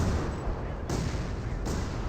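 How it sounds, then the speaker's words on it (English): Mortar barrage from the Company of Heroes 2 Spearhead mod, a dense, steady rumble of artillery impacts and gunfire filling the whole stretch, with two sharper bursts standing out partway through. "Mortar barrage been called in."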